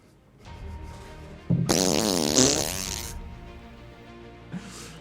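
A loud, drawn-out fart, stretched and warbling over about a second and a half, followed by a short second burst, amid a comedic sketch with background sound.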